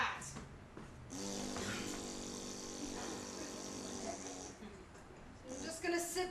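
One long, rasping snore drawn out for several seconds at a steady level, close by, with short breathy sounds just before and after.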